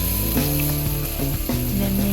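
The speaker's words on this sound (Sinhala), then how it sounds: "මේකට මම බටර් ටිකක් දාලා මස් කෑල්ල ඔන්න බැදෙන්න දැම්මා." Meat sizzles in melted butter in a pan while being fried for a Sri Lankan-style pasta, a steady, close crackling hiss that runs unbroken for the whole stretch.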